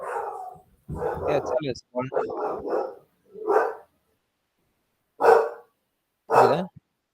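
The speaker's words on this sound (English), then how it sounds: "Is that your dog?" A dog barks in short bursts at moderate distance while people talk over and between the barks.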